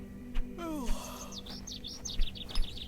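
Short, repeated chirps and tweets from a bird in the point-and-click adventure game Hob's Barrow, rising in bright bursts over a steady low game ambience, with no talk.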